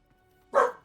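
A single short, sharp bark from a dog at moderate distance, alone in an otherwise quiet moment.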